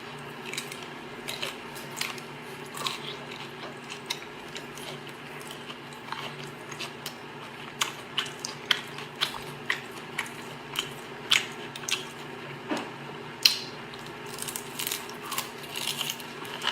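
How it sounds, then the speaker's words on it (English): Someone bites into crab and chews with repeated crisp crunches and cracks, quiet but sharp, scattered irregularly over a low steady background hum. "That crunch was too much for me, y'all."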